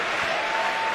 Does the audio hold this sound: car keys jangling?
no